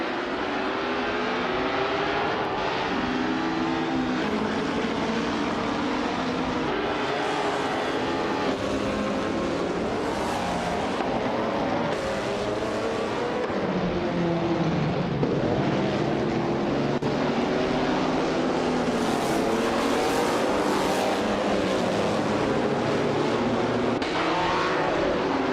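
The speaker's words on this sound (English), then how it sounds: "988 is driving a 1961 Ferrari 156 F1" A 1961 Ferrari 156 F1 race car engine wails through a racing video game, loud and unbroken, with pitch sweeping up and down as it accelerates and shifts, heard alone without voices.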